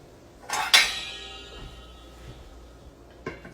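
A metal lid set onto a pan while cooking: two close, bright metallic clanks in quick succession with a ringing decay, then a softer clink a few seconds later.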